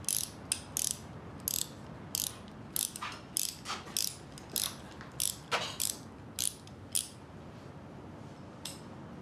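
Several factory sewing machines run in a workroom, giving bursts of rapid mechanical clatter that start and stop in quick irregular pulses, fairly loud and close with no talk over them.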